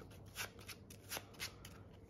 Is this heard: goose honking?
no